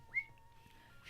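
A voice imitating a creature's little whistles, one short rising whistle followed by a thin sustained tone, soft and close.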